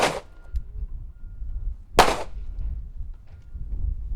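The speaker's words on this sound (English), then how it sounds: "when you're ready, give me one shot" Two sharp pistol shots cracking out on an outdoor range during a marksmanship drill, one at the start and one about two seconds later, each loud and abrupt with a short decay over low background rumble.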